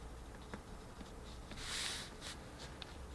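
Pencil strokes scratch faintly across paper while a mountainside village sketch is finished for a watercolor, soft irregular swishes with one slightly longer stroke in the middle, no voices.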